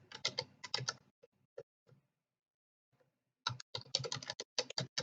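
Rapid keystrokes on a computer keyboard as a Metasploit command is typed, two close bursts of clicking separated by a near-silent pause with a few isolated taps, no talking.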